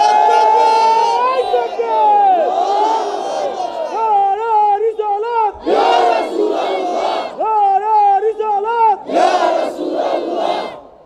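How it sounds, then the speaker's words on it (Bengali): A large crowd shouts the takbir, Allahu Akbar, in loud rising and falling chants at a religious sermon gathering, with repeated massed bursts of voices close and strong. "একটা পাগল জোরে একটা তাকবীর দেন"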